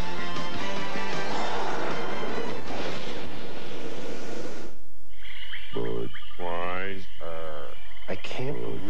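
Frogs croak in a beer commercial aired during the 1997 NBA Finals, a few deep, throaty calls sounding alone after a loud, dense stretch of music and noise that drops away abruptly.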